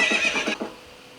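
A horse in the Nintendo 64 game The Legend of Zelda: Ocarina of Time lets out a short, bright whinny of about half a second, followed by a quieter snort-like tail, alone and close.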